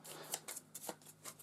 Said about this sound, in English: So I've got cards for Sentinel and Juggernaut shuffled together.